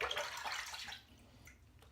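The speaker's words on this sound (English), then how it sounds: "I swirl my razor in the water." Muhle DE89 safety razor with a 7 O'Clock Super Stainless blade swirled through a sink of water between shaving passes: a close, hissing splash of agitated water that fades away after about a second.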